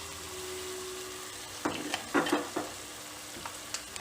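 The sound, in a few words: onions frying in oil in a pan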